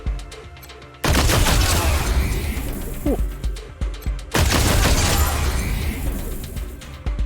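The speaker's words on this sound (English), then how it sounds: "That is a banging energy weapon." Loud, dense bursts of energy weapon fire from the video game Wasteland 3, two long crackling volleys separated by a short lull, with a brief voiced exclamation between them.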